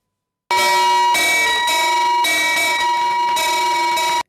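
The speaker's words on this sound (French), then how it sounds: "Félix Anoblé vient ainsi de sonner la cloche pour l'égalité des sexes" A ceremonial bell rung repeatedly at the BRVM stock exchange: loud, close metallic clangs with long ringing overtones, struck about five times in steady succession with no speech over it.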